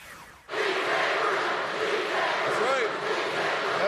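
A huge crowd of about 30,000 Texans at a political rally chanting in unison, a loud sustained roar of massed voices that swells in after a quieter start, with cheering mixed through.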